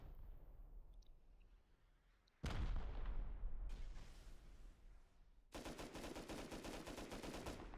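Rockets slamming into a base in Rust: quiet ambience, then a loud blast with a rumbling tail, a second impact, and a rapid series of sharp explosive bursts, close and heavy.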